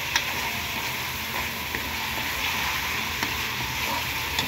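Sliced ginger sizzles steadily in a hot pan, a continuous bright frying hiss with faint crackles and pops throughout, no voices over it.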